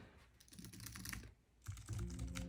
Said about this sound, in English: the keys feel really good to type on